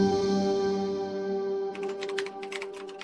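Keys clicking on a computer keyboard, a quick irregular patter of taps rising over a steady musical drone in the second half, moderately close.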